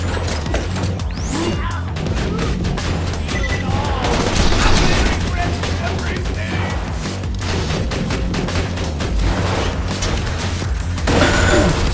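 Sentry gun fire in the video game Borderlands 2 rattles in dense, continuous bursts of rapid shots mixed with clanking impacts and crashes, loud throughout, with game voices faintly underneath.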